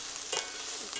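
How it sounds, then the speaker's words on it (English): Onions and peppers frying in a pan over medium to medium-high heat, giving a steady close sizzle with a brief louder crackle partway through and no voices. "So we're getting the onions and peppers softened up"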